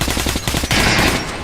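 Rapid automatic gunfire from the Metro Last Light Redux video game, a fast rattling burst of shots followed by a sustained noisy blast, loud and close with no talking.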